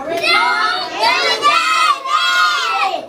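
A child yells loudly and continuously indoors, a high strained voice rising and falling in two long shouts close to the listener.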